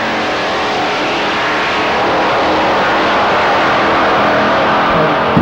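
Drag race cars launching at a 1995 shootout at Avon Park, one a big Plymouth GTX, make a loud, continuous broadband engine roar that holds steady for several seconds with no talk.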